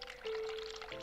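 Hot water runs from a sink tap in the game The Cat Lady, a steady, soft hissing stream with a faint ringing tone, heard alone without voices.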